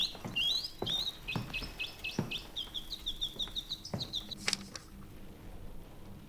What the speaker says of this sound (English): Mechanical bird.